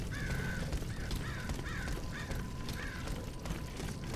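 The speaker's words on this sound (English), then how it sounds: "Damn crows." Crows in the video game Steelrising give a run of harsh caws, about six calls spaced through the clip over a dense, noisy game background.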